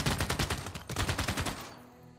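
Rapid bursts of unit gunfire in the strategy game Civilization VI, dense crackling shots rattling for about a second and a half before cutting off abruptly, loud and close with no voices.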